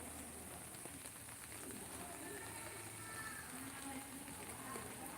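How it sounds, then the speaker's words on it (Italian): Steady rain falls on a grey, rainy day, a continuous close hiss of drops on surfaces that stays even throughout with no voices. "La pioggia non accenna a finire, da ieri sera che stiamo così."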